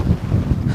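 Steady low wind buffeting the microphone on a windy day of fishing from a boat on the sea, a continuous rumbling roar with no talk.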